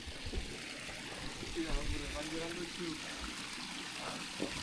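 Water runs steadily from the spouts of the Pancuran 7 bathing place on Mount Lawu, a continuous close trickle and splash with voices talking faintly over it.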